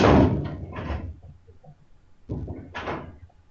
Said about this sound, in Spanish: perdón por el ruido, se cerró una puerta